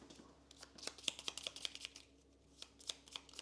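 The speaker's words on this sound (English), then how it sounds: "We'll now shuffle our cards" Quick flurry of playing cards being shuffled by hand for a tabletop game, soft papery riffles and taps in an uneven rhythm, close and fairly quiet.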